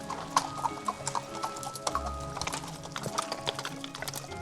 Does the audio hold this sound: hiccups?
no